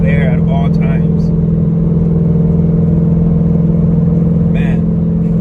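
A 5th-gen Chevrolet Camaro with a cam swap cruises along. Its engine makes a loud, steady, lumpy drone inside the cabin throughout, with a few brief vocal sounds on top.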